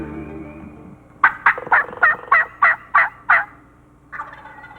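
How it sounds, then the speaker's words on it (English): A wild turkey gobbler calls from its roost in the Missouri spring woods, eight rapid, loud gobbling bursts in a steady rhythm, then a softer trailing call, clear and fairly near with no talking. "Chris works a gobbler from roost, but he doesn't connect."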